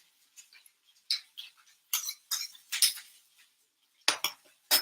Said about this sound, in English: Small spoon to get this all up.